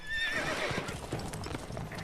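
A horse whinnies with a high, shrill neigh over a faint clatter of hooves, all fairly quiet, in the video game Witcher 3: Wild Hunt.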